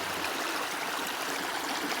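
Water rushes steadily through two gold prospecting sluices fed from buckets beside a creek in Wisconsin, a dense, continuous splashing flow that stays close and even throughout with no talking.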